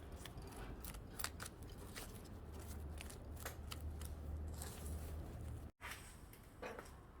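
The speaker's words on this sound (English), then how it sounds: "So I've mixed up some black grout, and off I go with my grouting." Black tile grout is worked into a mosaic, giving scraping and gritty crackling strokes, repeated and close, over a constant low background with no speech.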